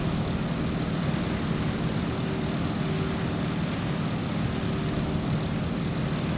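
A Stearman biplane on landing approach in Microsoft Flight, its propeller engine a steady droning hum with a faint tonal whine, held at an even level throughout with no speech.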